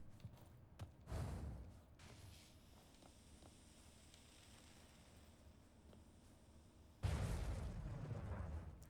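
Two explosions in the fantasy adventure game Oceanhorn 2, each a sudden bursting boom, the second louder and followed by rumbling debris, with quiet ambient play in between.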